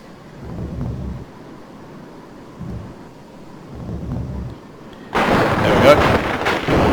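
Thunder rumbles from an approaching storm in the Commodore Amiga game Another World: low, soft rolls come in separate waves, then a much louder, brighter crack and rumble breaks in near the end.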